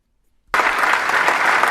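An audience bursts into applause after a half-second of silence, a loud, dense wash of clapping that holds steady to the end.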